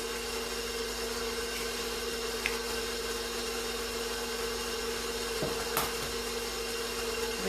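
An electric mixer blending an egg into pound cake batter gives a steady motor whine with a constant tonal hum, broken by a couple of faint knocks.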